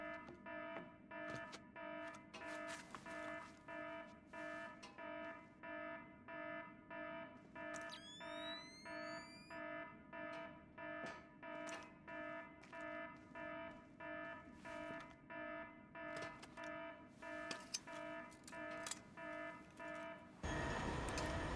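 A pulsing electronic alarm blares in the stealth game Splinter Cell, repeating a rhythmic buzzing beep about twice a second, loud and continuous, joined briefly midway by a rising synthetic sweep before cutting off near the end.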